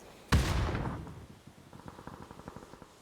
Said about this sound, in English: I think he did switch over to the AUG and put a few bullets in that direction